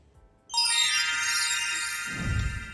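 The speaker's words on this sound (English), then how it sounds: "magical chime that blew out my eardrums." A loud magical chime bursts in suddenly after near-silence, a bright shimmering ring that sustains and slowly fades, with a low rumble entering near the end.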